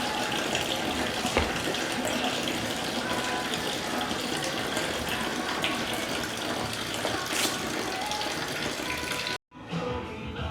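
Coolant pouring out of the drained radiator of a Subaru STI, a continuous close gushing and splashing stream that runs steadily for several seconds before cutting off abruptly near the end.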